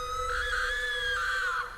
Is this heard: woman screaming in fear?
yes